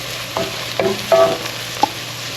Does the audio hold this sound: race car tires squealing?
no